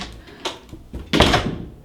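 Closet door in an apartment swinging and knocking, a couple of light thumps followed by a louder, longer rattling bump near the end, close up.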